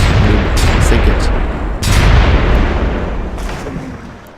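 Bombardment sinking a ship in the Civilization III video game, a loud booming artillery barrage with several heavy blasts rolling into one another.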